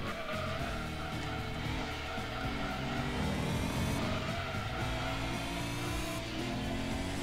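A race car engine in Gran Turismo 2 drones continuously through a championship race, steady and loud with shifting pitch as it accelerates, with faint tire noise.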